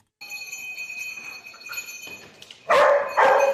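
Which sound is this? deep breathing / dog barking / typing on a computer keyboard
dog barking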